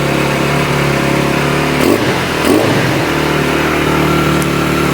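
Close, steady running of a cold, cheap motocross bike engine with no air filter, a continuous loud drone with a couple of brief revs or bumps midway and no talking.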